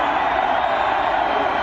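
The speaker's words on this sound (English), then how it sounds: "the crowd is just as noisy as can be" A packed college football stadium crowd roars in a steady, dense wall of noise at a BYU home game against Penn State, with no breaks and faint cheers mixed in.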